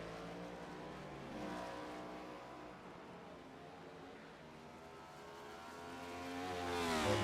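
Race cars roar through the Streets of Chicago circuit, a steady pack of engines with layered harmonic whine that swells louder toward the end as cars rev and pass close by.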